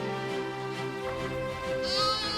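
A Batur sheep, a crossbreed of Merino and local sheep, bleats in a drawn-out, wavering call over a steady outdoor background, with a higher second cry near the end.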